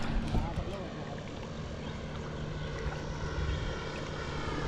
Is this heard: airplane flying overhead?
yes